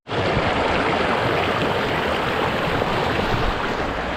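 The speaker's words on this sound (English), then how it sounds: "I'm in the river, and I just love the vibe from the river. So you can see from further distance, man, this is crazy. And then the water is running" River water rushing past close by, a loud, continuous broadband roar that starts abruptly and stays steady with no voices over it.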